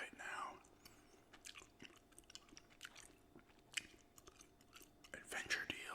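Gum is chewed close to the microphone in wet, irregular smacks and clicks over several seconds, with faint soft whispering in between.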